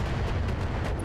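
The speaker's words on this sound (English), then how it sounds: "putting weapons fire into the right arm of that Centurion, which is where its main gun is as well" Mech weapons firing in the Battletech video game, aimed at a Centurion's right arm: a loud, dense burst of booming artillery-like blasts over about a second.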